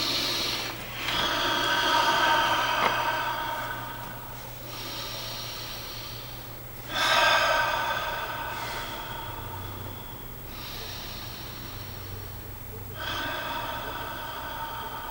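Slow, deep breathing during a guided relaxation, with three or four long airy inhales and exhales spaced several seconds apart, close and soft against a faint low hum, no talking.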